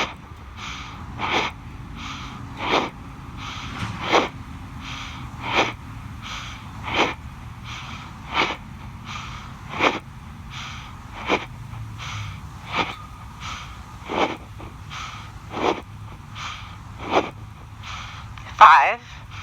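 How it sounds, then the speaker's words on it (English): Forceful rhythmic yoga breathing in and out through the nose, about a dozen short sharp nasal bursts spaced roughly a second apart, close to the microphone, with no talking. "In and out through the nose."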